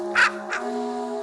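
A raven gives two harsh, close caws, the first louder and the second shorter, over a steady electronic hum.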